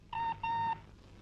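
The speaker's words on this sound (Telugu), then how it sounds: "రంగమ్మా, ఫోన్ తీసుకురా." A telephone rings indoors with two steady electronic tone bursts in quick succession, moderately quiet and clear, with nothing else over it.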